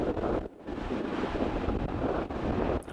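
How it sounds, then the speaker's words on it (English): Strong wind buffets the microphone on an outdoor disc golf course, a loud continuous roar with gusts and one brief lull, and no voices. "The wind was so strong there. You can obviously hear it."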